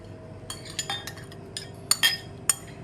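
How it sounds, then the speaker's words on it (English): Metal utensils clink against dishes and glass while red onions go into a syrup, a few sharp, light taps scattered over a few seconds, close and fairly quiet with no talking. "So what I'm doing now is I'm adding the red onions into the syrup."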